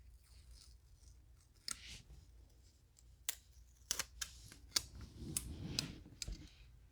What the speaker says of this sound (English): I'm going to peel off the backing